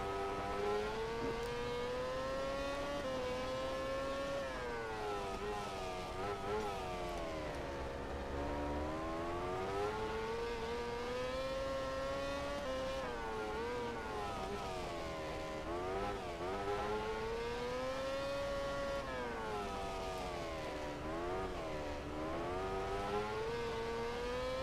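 Racing motorcycle engine in the video game MotoGP 13 at Losail, a continuous high-pitched whine rising and falling as the rider accelerates and brakes through corners, heard alone and fairly faint.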